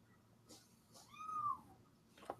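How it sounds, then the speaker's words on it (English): A kitten's mother cat lets out a single drawn-out meow that rises and falls, close and fairly clear over quiet room noise, with brief soft rustles before it and a short sound at the very end. "His mom was the one that was meowing"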